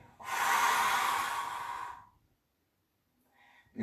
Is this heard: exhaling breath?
yes